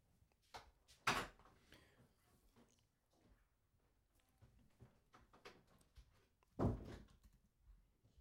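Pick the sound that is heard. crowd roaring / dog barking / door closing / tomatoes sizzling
door closing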